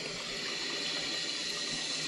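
Water runs steadily from a tap into a sink under a plumbing P-trap check, a constant close hissing rush with no pauses and no voices.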